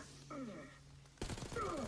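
Gunfire in the Black Ops 6 campaign: a steady hum is broken by a dense, loud burst of rapid shots in the second half, with faint tonal game sounds underneath and no talk.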